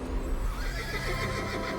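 A horse whinnies loudly in the She-Ra and the Princesses of Power cartoon, a single drawn-out neigh with faint hoof clip-clop, heard alone without talk.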